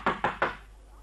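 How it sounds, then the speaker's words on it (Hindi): Three quick knocks on a door in a Hindi radio play, evenly spaced and close, each a sharp hollow thud with a short decay, then quiet. "लो बस अब रात भर खटखटाए जाओ।"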